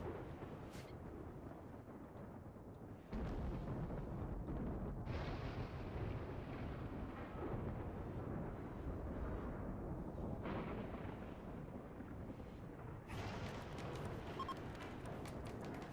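Lightning strikes of a flash storm in the video game Rimworld, heavy rumbling booms and crackling bursts filling the air, loud and continuous with several sharp onsets, no talking.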